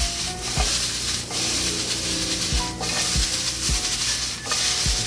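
Steak seasoned with cumin in a Mexican-style fajita mix sizzles steadily in a hot pan while being stirred, with regular thuds and scrapes of the utensil roughly every second over a constant frying hiss, no talk.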